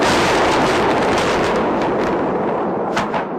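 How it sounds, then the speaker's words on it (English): Violent explosions, likely cruise missiles, go off just across the Tigris River in Iraq, a loud, sustained roar of blasts and rumbling that fills the whole stretch and fades slightly toward the end. "Just across the Tigris River here, violent explosions."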